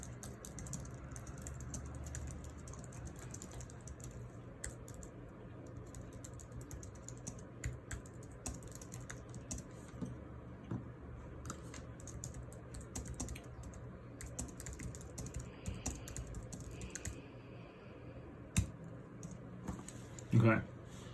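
Soft keyboard typing on a computer keyboard clicks along steadily in a quiet room, faint and continuous beneath a low background hum, with a person speaking intermittently.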